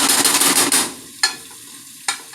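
A spoon stirs butter through cooked instant rice in a pot, a brief busy run of soft scraping and sizzly rustle followed by two isolated clinks or scrapes, close up with no voices.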